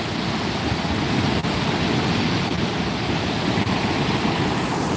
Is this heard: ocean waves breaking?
yes